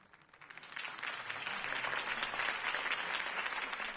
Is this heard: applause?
yes